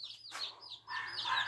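Backyard chickens cluck and chirp at feeding time in a quick, close, fairly soft series of calls with no talking.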